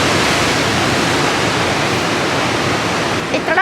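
Powerful ocean surf crashing against the foot of a sheer sea cliff beneath a fortress, a loud continuous roar of breaking water heard from high above, with no pause.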